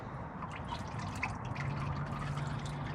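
Engine oil from the removed filter of a 1984 Oldsmobile Cutlass Supreme drips and trickles into a drain pan, a close, steady liquid patter without speech.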